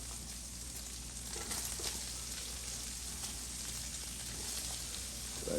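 Cauliflower and garlic frying in bacon fat in a pan, a steady crackling sizzle with scattered pops, close and continuous.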